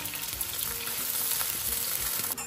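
Chopped onion and garlic frying in hot white cooking oil, a steady close sizzle with light stirring noises and no talking.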